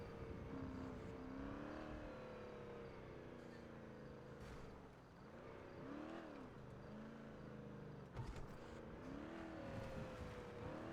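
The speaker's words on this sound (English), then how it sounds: "The person just parked their car." A car engine in GTA NoPixel revs and shifts, the pitch rising and falling through repeated throttle changes as the car is brought to park, steady and moderately close over faint ambience.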